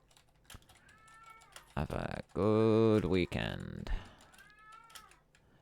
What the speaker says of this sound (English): And my cat's crying for me